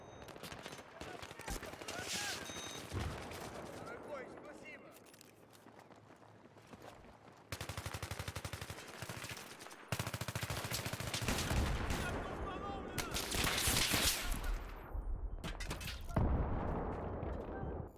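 Video game gunfire crackles in a busy firefight, with repeated shots and rapid automatic bursts mixed with running footsteps and loud, changing game noise throughout.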